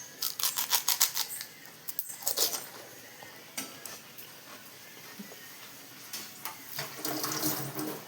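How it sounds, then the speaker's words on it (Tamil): Spiced pani water is poured into crisp pani puri shells, giving short splashy liquid trickles and gurgles with faint crackles, quiet and close, with no talking. "அது பாருங்கள், பானியை ஊற்றுறோம் பாருங்கள்."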